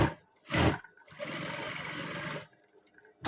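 A sewing machine stitches darts on a pair of trousers, one short whirring burst followed by a longer steady run of stitching that then stops, close and clear with no talking.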